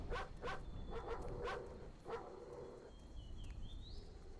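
Dogs bark in the game Experience 112, several short yips and barks in a quick run early on, fairly distant over a steady ambient hum, followed by a rising whine-like tone.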